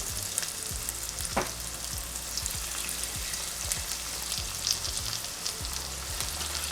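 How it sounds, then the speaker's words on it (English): Falafel balls fry in hot oil, a dense, even crackling sizzle that holds steady and close throughout, with a few brighter pops and no voices. "And now we'll fry them."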